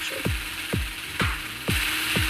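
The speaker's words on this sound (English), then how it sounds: "set up your drills and start looting" A drill being placed during a jewelry store heist in the game Payday 2: five evenly spaced, loud ratcheting clunks about half a second apart over a steady mechanical hum, with no voices.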